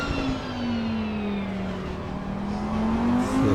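Audi and BMW race cars battle on the circuit at COTA in a hot midfield fight. The engines roar loudly and continuously with a rising and falling pitch as the cars pass close by, and no one is speaking.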